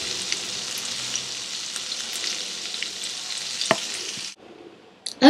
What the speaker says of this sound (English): Okay, so I'm just gonna let these fry and toss around the others